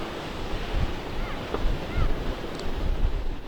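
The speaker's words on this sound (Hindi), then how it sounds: "लेकिन लहरों के जोर ने उन्हें ध्वस्त कर दिया" Heavy hurricane-driven Atlantic surf smashing into beachfront houses on the North Carolina coast, a continuous churning roar of breaking waves with gusty wind buffeting the microphone and no voices.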